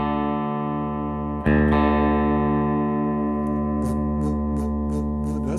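A guitar string tuned just off an open D string rings against it, producing a steady wavering beat in the sustained tone. The strings are re-struck once partway through and ring on at close range, unaccompanied by speech.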